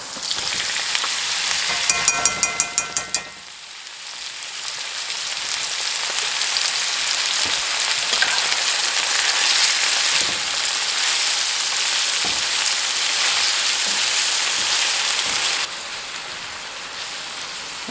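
Weenies and sauerkraut sizzle and fry steadily in a pan on a stovetop, a dense crackling hiss with a brief rattle of stirring near the start, continuing alone without talk.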